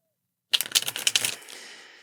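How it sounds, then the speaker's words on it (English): Tarot cards shuffled by hand in a quiet room, a rapid burst of crisp riffling clicks for about a second that then trails off into a soft rustle, close and alone. "connecting to the cards by listening into the sound of them being shuffled"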